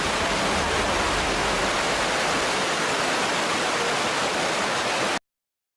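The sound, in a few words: roaring flood water waves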